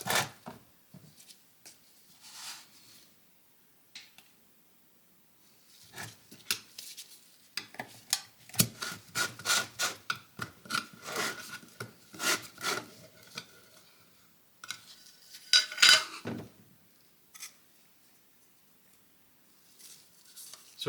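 Casting rubber mixed with a few drops of black dye for rubber pads on a 1956 VW Beetle pedal rebuild: quiet, irregular scraping and stirring against a container, with bursts of brisk rubbing and pauses between, close by.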